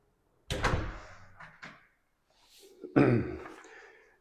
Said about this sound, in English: Let me shut this door behind me.